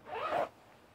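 A heat zip on Under Armour or Kuiu hunting pants is pulled open in one quick close rasp lasting under half a second, then quiet.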